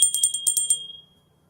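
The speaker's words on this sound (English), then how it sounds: "I shake up the chi by rattling a bell" A small bell rattles over a candle flame, about seven bright, quick ringing jingles in a steady shake that then fade into a quiet ringing tail, close and clear with no talking.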